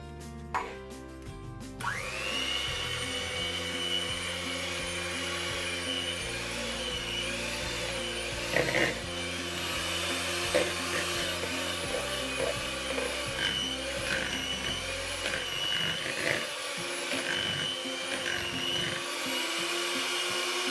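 An electric whisk whirs steadily through a mixture of icing sugar for a giant Reese's peanut butter cup, a loud continuous motor drone with small shifts in pitch as the beaters move through the bowl, no talking.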